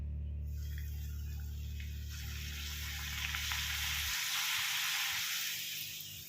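Puris made from maida dough frying in hot oil, a steady bright sizzle with a low hum fading after a few seconds, then bubbling crackle continuing alone.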